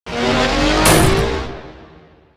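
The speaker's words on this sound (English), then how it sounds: "spots a truck speeding towards Aika" Truck speeding toward a person on a rainy night, anime sound effect: a loud, sustained roaring rush with a squeal-like tone rising midway, then fading out over about two seconds, no voices.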